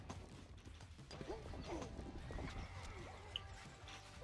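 Horses of horse archers in a strategy video game neigh and clatter amid a busy battle din, with hooves, whinnies and metallic clashes blended into a dense, steady roar.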